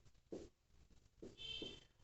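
Pen scratching across paper while writing out an answer on a Class 9 maths worksheet: a few soft, brief strokes, faint and close, with no talking.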